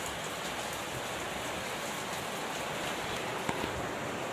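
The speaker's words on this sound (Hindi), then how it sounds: "दोस्तों अभी यहाँ पे बारिश हो रहा है" Steady rain falls heavily outdoors, a dense, even hiss with no pauses, close and loud, broken only by an occasional sharper drip.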